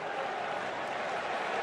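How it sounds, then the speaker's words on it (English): A stadium crowd at a college football game in Bloomington cheers and sings for the Indiana Hoosiers, a steady, distant wash of voices and applause with no single voice standing out. "the crowd here in Bloomington serenading their Hoosiers"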